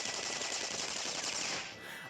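Enemies open fire in the RPG Persona Q2, a dense, continuous rattle of rapid game gunfire that stays loud and steady before tapering off abruptly near the end, with no voices.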